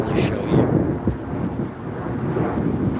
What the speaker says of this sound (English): So the rain's really coming down right now.